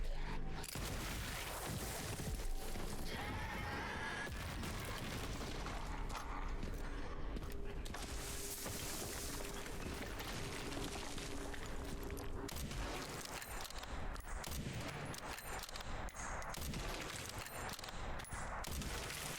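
Dense gunfire from Leon's weapons in Resident Evil Requiem, repeated sharp shots and bursts mixed with mechanical clanks and booms, loud and continuous over a busy game soundscape.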